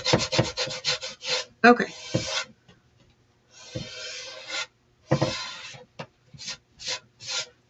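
Bursts of scratchy rubbing as chalk paint is sanded off a wooden door round, short strokes in quick runs separated by pauses, close and fairly loud, with one brief spoken word.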